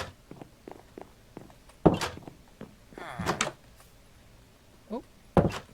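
Blocky thuds and clacks of doors opening and closing in Minecraft 1.14.3, several sharp knocks spread out among lighter taps and footstep-like ticks.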